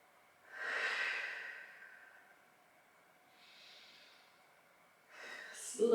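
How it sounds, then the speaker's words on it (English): Deep, slow breaths during a beginner hip and lower back stretching routine: a long audible exhale, a softer second breath, then a third breath ending in a brief rustle, close and fairly quiet. "Start to deepen the breath."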